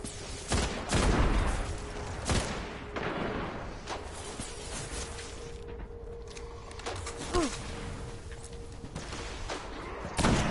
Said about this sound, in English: How would you like it if you got shot? I mean, probably not a lot, because I'm shooting you,